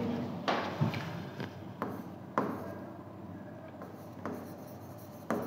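A pen scratches across paper in short strokes, with soft rubbing interrupted by sharper taps as each word is written, close and quiet.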